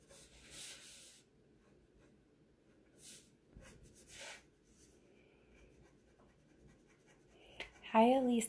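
A pencil scratches and rubs across paper while detailing a drawing, in soft, intermittent strokes close to the microphone, and a voice speaks briefly at the end.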